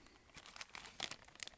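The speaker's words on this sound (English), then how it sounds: "I'm putting that in the plastic bag for its own safety" Thin plastic bag crinkles in quick, faint bursts as a tiny part of a Blokees Transformers One Optimus Prime or Sentinel Prime figure is slipped inside, close up and quiet.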